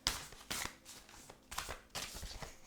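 Tarot cards shuffled by hand in a quiet room, a series of soft, close riffles and slaps arriving in uneven bursts.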